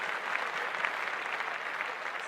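Steady applause from a small group clapping in praise of a football player's clutch primetime performance, dense and even throughout with no speech over it.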